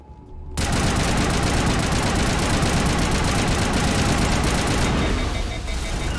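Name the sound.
gunfire in the video game Mass Effect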